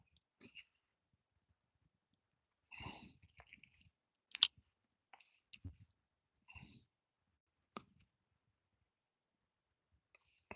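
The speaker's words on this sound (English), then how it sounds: "my reel is making noises" A fishing reel on a kayak in New Jersey makes sparse, faint clicking noises: short isolated ticks and small clusters separated by near silence.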